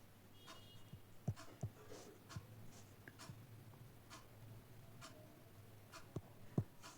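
Pen or chalk writing during a physiology lecture, heard as faint scratches and sharp little taps at irregular intervals against quiet room tone, with no voice over them.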